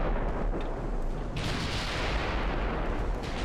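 Heavy naval guns boom and rumble continuously from battleships in the naval combat game Ultimate Admiral: Dreadnoughts, a dense, loud wash of overlapping artillery fire with no clear gaps.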